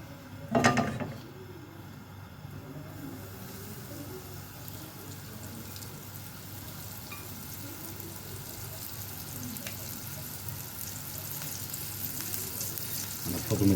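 Sliced onions frying in hot oil for bessara, a steady close sizzle that holds for the whole stretch with a brief clatter near the start.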